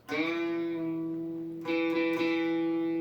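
A single electric guitar note picked on the 5th fret of the A string and bent up a whole step, carrying a distorted, effects-heavy tone; it sustains, is re-picked around midway and rings out loud and close.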